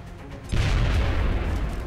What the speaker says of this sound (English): So I could try to throw a frag grenade.